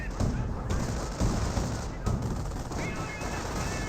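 Gunfire rattles in a Company of Heroes battle as a rifle squad comes under suppressing fire, with several sharp overlapping bursts in quick succession against a busy battlefield din.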